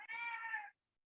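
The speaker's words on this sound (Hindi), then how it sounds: "बिल्ली बहुत हल्ला कर रही है" A cat lets out a single loud, drawn-out meow lasting under a second, close by, then falls silent.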